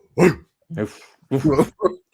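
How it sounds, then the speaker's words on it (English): A dog barks several times in short bursts, loud and close, in what sounds like a studio setting, with each bark separated by a brief pause. "Give a good bark, huh?"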